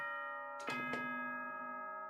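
Danganronpa 2 announcement chime: two bright bell-like tones ringing out in quick succession, then a sustained shimmering decay, clear and alone.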